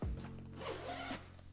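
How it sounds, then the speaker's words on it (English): A YKK water-resistant locking zipper being pulled open along the clamshell back panel of a Tropicfeel travel daypack, a close, steady rasping slide lasting about a second and a half, with no talking. "So if we open that up, this is a YKK water resistant zipper"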